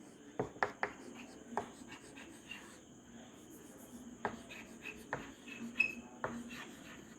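Marker or chalk writing on a classroom board, scattered taps and short scratchy strokes at intervals over a faint steady background hum.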